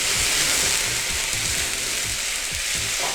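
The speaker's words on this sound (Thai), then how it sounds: "หลังจากที่กระเทียมนะครับเริ่มที่จะมีสีออกทองๆนะครับผมก็จะใส่ไวน์ขาวลงไป" White wine splashes into a pan of golden garlic, setting off loud, continuous sizzling and frying with light stirring clatter, close and alone with no voices.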